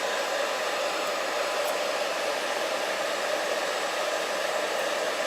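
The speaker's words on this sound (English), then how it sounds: "I have a blow dryer down here, sorry" A blow dryer runs with a loud, steady, breathy whoosh that holds even and unbroken throughout, close by with no one speaking.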